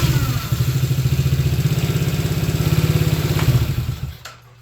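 A quad ATV engine runs hot after a heat cycle, chugging loudly and unevenly with a rhythmic, rough idle before it dies out near the end, leaving near silence.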